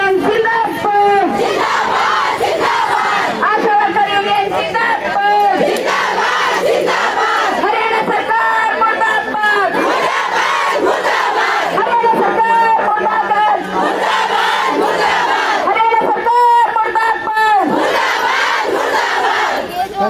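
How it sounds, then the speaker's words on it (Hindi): Large crowd of ASHA workers at a protest chanting slogans against the government, loud rhythmic shouted call-and-response voices continuing throughout, close and dense. "यहाँ पर लगातार जो नारे लगाए जा रहे हैं सरकार के खिलाफ"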